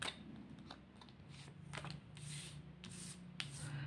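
Tarot cards are shuffled and drawn by hand: soft, quiet riffling and flicking in short bursts, with brief card snaps and slides close by in a hushed room, no speech.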